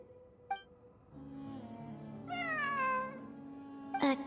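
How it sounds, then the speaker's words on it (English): A cat in the video game Genshin Impact meows in a drawn-out, rising and falling call over a steady musical hum, with a faint chirp before it and a sharp click right after. "It really is a cat."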